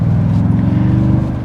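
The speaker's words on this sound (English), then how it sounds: "The TRD Pro does have a special dual exhaust setup compared to the regular Tundra that I think sounds quite nice" A 2023 Toyota Tundra TRD Pro engine rumbles through its special dual exhaust, a steady, loud low drone held evenly throughout.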